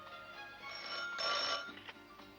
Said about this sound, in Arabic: تليفون عشانك يا فندم